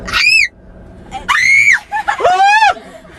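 A person, likely a young teen, lets out three loud shrill screams in quick succession, each rising and falling in pitch, close and piercing with brief gaps between them.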